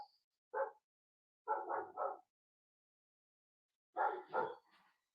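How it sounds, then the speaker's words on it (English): A house dog barks in separate bursts: one single bark, a quick triple, then two more with a softer trailing yip, each short and close with silence between. "Sorry, my stupid ass dog barking, of course."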